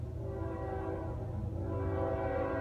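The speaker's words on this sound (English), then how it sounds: "You can hear the train in the background passing by." A train passes in the background outside a pottery studio, a steady low rumble with a sustained horn-like tone running throughout, fairly distant and continuous.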